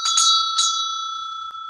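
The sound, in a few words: bell rung to cleanse the vibration, as before yoga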